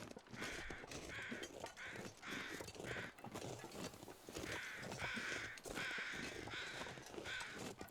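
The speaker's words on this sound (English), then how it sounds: "I want to see what these crows are going on about" Crows caw in repeated harsh bursts in the survival video game The Long Dark, fairly loud over a constant rushing wind-like background, with no talk.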